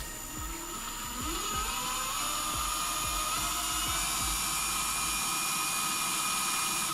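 An electric drill spins a Harbor Freight bit in a steady, high whine that holds for the whole stretch, close and fairly loud, with faint low knocks and handling bumps underneath.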